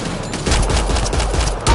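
Enemies open up with rapid gunfire in the sci-fi shooter Mass Effect: Andromeda, a loud, dense fusillade of overlapping shots that keeps going without a break.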